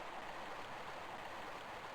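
Flowing water current in Tomb Raider remastered, a steady, continuous rushing wash, soft and unbroken.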